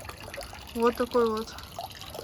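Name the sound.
water trickling at a Japanese temple purification fountain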